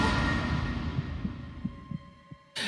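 A video game heartbeat sound effect from Zero Escape: 999 thumps at a steady, slightly quickening pace over a low hum, each beat soft and muffled, ending in a sudden burst of noise.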